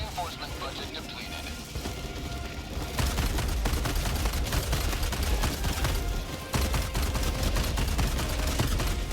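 Shotgun fire in the video game Helldivers 2 mixed into dense, continuous battle noise with rapid gunfire and blasts. The din grows louder after the first few seconds, and voices can be heard underneath.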